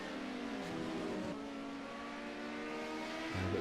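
BMW club race cars at Hockenheim, engines droning steadily at high revs as they run close together, with a shift in engine note near the end and no talking.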